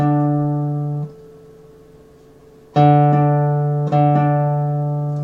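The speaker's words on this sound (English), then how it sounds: "so the open D against the fret 7 D. There's a little bit of a beat there." A guitar's open D string rings against a fretted D while being tuned by ear: three plucks of sustained tones, one fading away before two fresh strikes, each ringing with a faint beating wobble.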